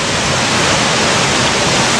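Waterfall in a forest on a mountainside, a loud, dense and constant roar of falling water heard close up, with no voices.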